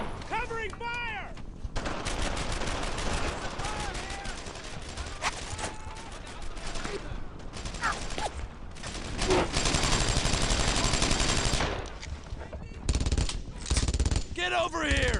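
Dense bursts of rifle and machine-gun fire crackle through a World War II battle in Brothers In Arms: Earned In Blood, loud and rapid with brief lulls, while soldiers' voices call out over the shooting.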